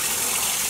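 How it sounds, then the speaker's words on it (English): Warm running water gushing steadily over freshly dyed sock yarn as it is rinsed, a close, continuous wash of splashing flow. "The water is a little bit warm, so let's start rinsing off our yarn."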